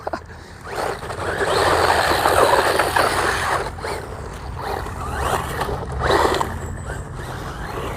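DEERC H16E brushless RC truggy driving off-road, a rough, gravelly crunch of tires over dirt with a whining motor that surges and eases over several seconds, heard fairly close without talking.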